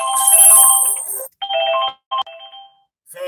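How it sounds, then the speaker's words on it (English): A phone's ringtone chimes for an incoming call, a bright electronic melody that plays loud and close, breaks into short bursts with gaps between, then falls silent. "we got a phone call."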